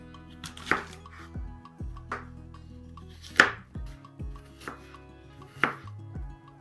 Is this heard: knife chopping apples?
yes